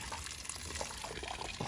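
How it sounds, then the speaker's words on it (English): Water running from a hose in a muddy yard strewn with wood chips makes a steady, hissing splash with no pauses. "Got our water running"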